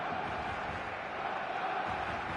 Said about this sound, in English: The stadium is full of noise and energy.